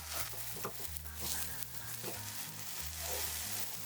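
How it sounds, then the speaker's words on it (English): Eggplant slices, floured side down, fry in a large pan with a continuous soft sizzle and crackle, steady and close, with a low musical hum underneath. "Place the eggplants in the pan with the floured side facing down and fry them until browned"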